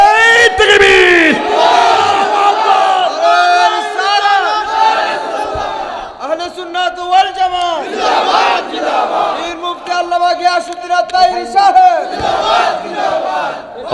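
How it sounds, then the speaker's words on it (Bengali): A large crowd at a Bangla religious sermon gathering shouting the takbir in loud, repeated waves of massed voices, each swell rising and falling in call-and-response fashion, close and forceful throughout. "আল্লাহু আকবার বলেন সবাই"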